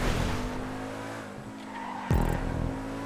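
A sports car in GTA 5 races with its engine droning loudly, then its tires squeal sharply in a sudden skid partway through.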